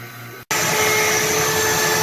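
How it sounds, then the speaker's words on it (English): The vacuum pump on a woodworking vacuum jig kicks on abruptly after a brief pause and runs as a loud, steady, close whine with a constant hissing airflow. "the vacuum is running, but it's not really holding the board"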